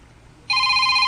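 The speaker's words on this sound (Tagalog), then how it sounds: "Imo raw cellphone." A mobile phone ringtone bursts in halfway through, a steady bright electronic ringing that holds loud and unbroken after a short stretch of quiet background.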